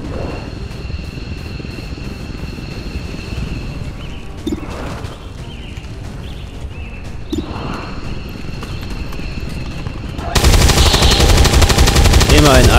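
Automatic gunfire and shots in the XCOM 2 tactical video game, steady crackling combat under a constant noisy bed, ending in a sudden loud, dense burst of fire.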